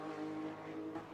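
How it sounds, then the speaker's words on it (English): A Porsche 911 engine in Garry's Mod, a brief steady tonal drone, held fairly faint. "So it looks like they've got the sound bang on with the 911"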